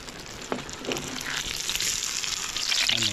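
Dynamite chili rolls, made from siling panigang, dropped into hot oil. They fry with a crackling sizzle that starts with a few splashes and grows denser and louder, with bubbling pops near the end and no talking.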